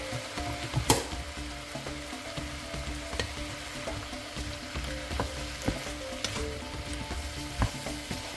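Stew meat fries with a constant sizzle as garlic powder and paprika are mixed in, and a utensil scrapes and taps against the pan now and then.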